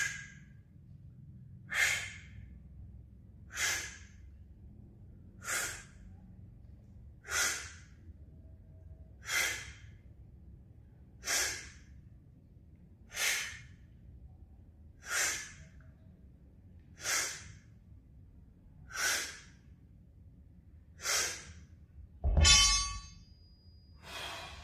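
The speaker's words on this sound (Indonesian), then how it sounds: "Ketika tarik bebannya buang nafas." Forceful breaths are pushed out during standing wide-grip barbell rows, about a dozen evenly spaced exhales roughly two seconds apart, close and clear, with a heavier breath and clank near the end.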